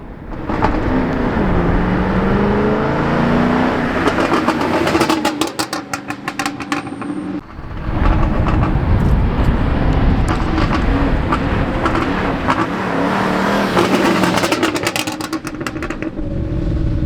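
A turbocharged Ford Fusion sedan accelerating hard, a loud engine roar rising in pitch through the gears with a brief lull and shift midway, then surging again, heard close with road and wind noise and no talk.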